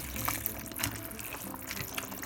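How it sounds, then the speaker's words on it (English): Two cups of macaroni poured and stirred into a pot of boiling water, giving a busy wet rush of bubbling and rattling pasta, close and steady. "I'm going to add in my 2 cups of macaroni. gonna stir that in"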